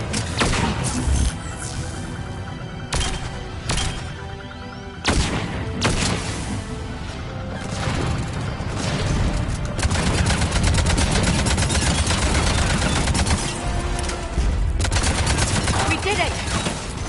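Sustained gunfire from Cerberus troops during a video game firefight, dense rattling bursts running almost continuously at a steady loud level with brief lulls, while voices speak over the shooting.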